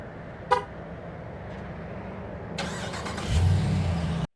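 A Jeep with a Hemi engine conversion starts by remote: a brief chirp or horn toot, then the engine cranks and catches into a steady idle that continues to the end.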